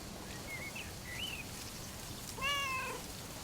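A cat gives a few short, thin meows and then a louder, higher mewing call, with a steady faint background hiss and no talking.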